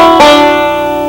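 Banjo sliding from the third to the fifth fret, then plucking the open first string: one sharp, close twang that rings out and slowly fades.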